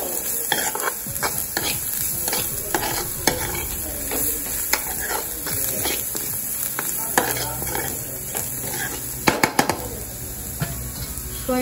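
Onions and pepper stirred and fried in a pan for cheesy corn, with continuous sizzling and frequent sharp scrapes and clinks of a spoon against the pan, close and busy throughout.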